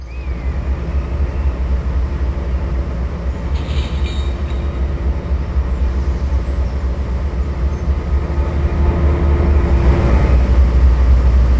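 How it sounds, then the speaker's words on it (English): A locomotive pulls away after uncoupling and heads out onto open track, a steady loud rumble of engine and rolling wheels that swells toward the end. "now heading for the next one, uncoupling and quickly heading out onto the stretch"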